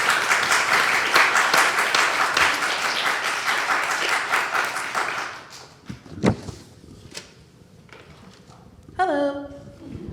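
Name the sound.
audience applause welcoming speakers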